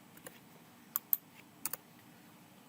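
A few sparse, quiet keystrokes on a computer keyboard as exam answers are typed in during an online test, with isolated clicks separated by near silence.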